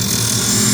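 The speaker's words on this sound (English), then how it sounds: "there are times when the grinding wheel grinds, and there are times when the grinding wheel does not grind" A Highland Park lapidary shaping machine's grinding wheel runs steadily against a stone, giving a loud, continuous whirring grind with a constant tone and no pauses.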